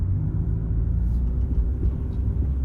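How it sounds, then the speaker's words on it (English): A car driving toward a rural waste transfer station gives a steady low engine and road rumble from inside the cabin, continuous and fairly loud with no talking. "And now we drive to the local landfill."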